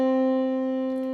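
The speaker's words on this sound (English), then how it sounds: "this is the sound of C." A single sustained C note on an electronic keyboard rings steadily for about a second, clear and pure, close up with no talking.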